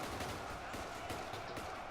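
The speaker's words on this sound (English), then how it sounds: "they're just shooting at whatever it is that's shooting at them" Dense, continuous gunfire from WWII German and US soldiers battling in Ultimate Epic Battle Simulator, a thick roar of overlapping shots with no clear pauses between them.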